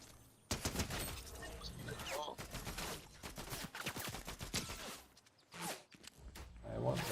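Bursts of video game gunfire crackle in rapid volleys, with shots following close together and a few short pauses between them, and a player talks over part of it.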